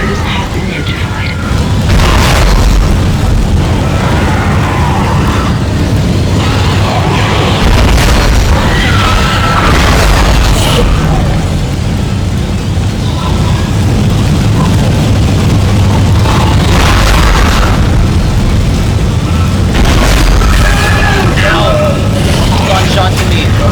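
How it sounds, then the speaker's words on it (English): A shuttle crashes into the main hangar bay in the Dead Space video game, with repeated heavy booms and rumbling impacts over a dense, loud background, while voices talk throughout. "Collision detected in the main hangar bay."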